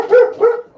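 A dog gives two quick, close barks in a row, sharp and loud, the second slightly shorter, with nothing else around them.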